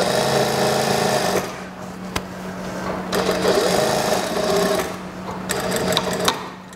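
Sewing machine stitching the elastic waistband of a long skirt, running in steady whirring bursts with brief pauses and clicks between them, loud and close.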